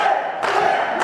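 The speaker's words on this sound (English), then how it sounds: "Crowd appreciating what I was doing here tonight" A wrestling crowd roars and cheers in a dense, continuous wash of voices during a live show, swelling slightly partway through.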